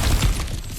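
Cracked ground smashed through in God of War Ragnarok, a loud, close burst of crumbling, shattering debris that fades quickly within a second.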